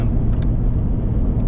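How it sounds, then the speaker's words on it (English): A cruiser passes on an Australian outback road, heard from inside a travelling vehicle as a steady, loud low rumble of engine and road noise with no voices. "cruiser just passed me"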